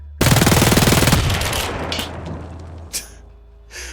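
A LEGO Glock G18C-style custom gun fires full auto, a loud rapid rattle of clicks lasting about a second, then a decaying mechanical clatter and two lighter clicks.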